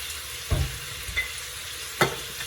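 Chicken sears in an overcrowded Instant Pot, a soft steady sizzle under a few louder clanks and scrapes of a utensil stirring against the pot, about three distinct knocks across the span, with no one talking.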